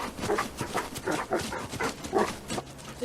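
A dog at a dig site in a pit of dirt and rotten boards whimpers and yips in a string of short, uneven bursts, fairly close and moderately loud.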